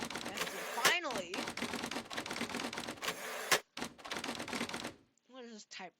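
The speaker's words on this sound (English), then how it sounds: "What is this typewriter crap?" Rapid typewriter clacking from the video game The Operator plays in dense bursts, loud and close, interrupted by a brief pause and followed by a short voiced outburst at the end.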